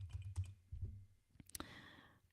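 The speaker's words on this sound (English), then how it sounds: "I will type it in the chat room." Typing on a computer keyboard: a few quiet, scattered key clicks and taps in short irregular bursts in a hushed room.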